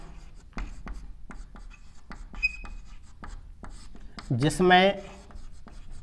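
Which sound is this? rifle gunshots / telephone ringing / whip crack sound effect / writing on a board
writing on a board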